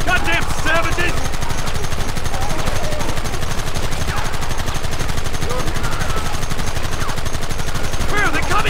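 Gunfire in the Western game Red Dead Redemption: a dense, rapid stream of loud shots and machine-gun-like bursts throughout, with shouting voices cutting in near the start and end.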